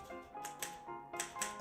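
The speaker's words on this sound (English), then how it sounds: "They just kept typing and typing and typing." Typewriter keys struck in a quick, irregular run of soft clacks, faint and somewhat distant, with no voices.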